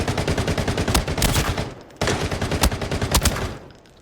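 Assault rifle hip fire in the Arena Breakout video game: two rapid bursts of automatic gunshots, each about two seconds long, loud and close, separated by a brief pause.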